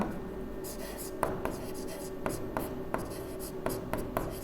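Pen or chalk writing out a formula by hand, a series of short scratchy strokes and taps in a steady irregular rhythm, close and fairly quiet over a faint steady hum.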